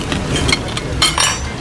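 Glasses clink together in a toast at a lechon baboy meal in Siargao, two or three bright close chinks over a busy table background.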